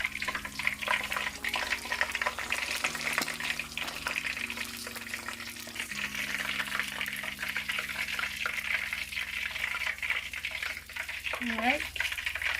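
Fish frying in hot oil produces a steady, even sizzling hiss that runs unbroken throughout, with a low hum underneath and a voice speaking briefly near the end.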